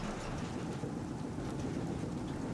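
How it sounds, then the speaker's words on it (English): A thunderstorm with steady rain in the survival game Prologue: Go Wayback! gives a constant broadband hiss of rainfall over a low rumbling undertone, moderately quiet and unbroken throughout, with no voices. "And here goes the storm again."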